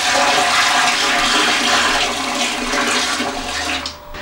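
A toilet is flushed in a Newcastle home in 1983: a loud, close, continuous rush of water that holds steady, then thins out and drops away in the last moments.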